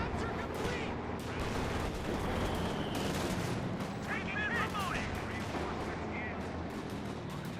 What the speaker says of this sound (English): And we got mortar fire flying all over the place.